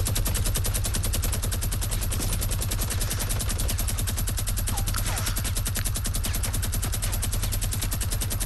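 A minigun fires in a video game as a continuous rapid stream of shots, steady and dense for the whole stretch, with no talk over it.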